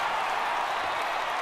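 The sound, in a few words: home crowd cheering a triple, from video game MLB The Show 18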